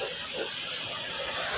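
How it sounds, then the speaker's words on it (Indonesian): A spray gun laying clear coat on an old Honda Supra motorcycle body, a continuous steady hiss of atomized paint, close and even throughout. "Kita semprot clear bagian kiri kanannya juga."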